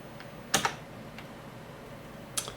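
Computer keyboard keys tapped to move a 3D cursor in the 1994 PC game PC BLOX: one double clack early, a faint tap in the middle and another pair near the end, close and crisp over low room hiss.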